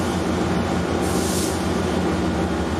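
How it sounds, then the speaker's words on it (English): A Metrolink Ventura County Line commuter train, led by an F59PH diesel locomotive, rumbles steadily with a low droning engine and a constant broadband roar that holds level throughout. "what will become my Metrolink train to take me back to Burbank Airport"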